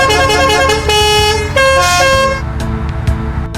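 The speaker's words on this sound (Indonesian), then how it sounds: "Kalian siap dengar suara telolet bus kita?" A telolet bus horn sounds in Bus Simulator Indonesia, a loud multi-tone melodic honk. Its sustained notes shift pitch through the phrase over steady engine rumble, then a few short toots follow near the end.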